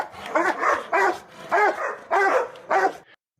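Several dogs bark indoors at home, a run of five or six loud, close bursts of barking with short gaps between them and no talking.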